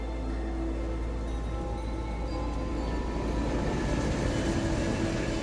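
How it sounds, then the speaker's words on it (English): A floating train in Genshin Impact, in the Snezhnaya region, gives a steady, close rumble of rolling rail noise with a low drone that holds evenly throughout. "Oh shit, yeah, the train is just floating."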